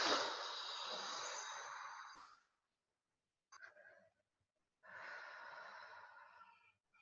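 Slow, deep breaths during a lying-down exercise: a long, close exhale, a short pause, a brief breath, then another long, airy exhale, heard alone in a quiet room.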